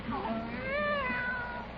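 A cat on an old-time radio comedy gives one drawn-out, rising and falling meow, close and clear over a faint background hiss.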